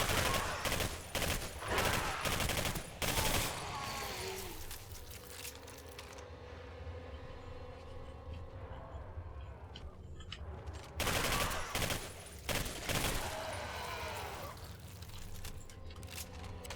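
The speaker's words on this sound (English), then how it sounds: "The primary assault rifle of the USSR." Bursts of assault rifle fire in the Singularity video game, the USSR's primary rifle, crackle in rapid volleys at the start, give way to a quieter rumbling stretch, then return as sustained loud automatic fire.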